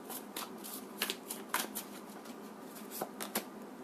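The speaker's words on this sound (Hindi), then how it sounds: "so let me shuffle the deck" A deck of tarot cards being shuffled by hand: a run of soft riffling and flicking with several sharper card snaps, close and fairly quiet, with no talking.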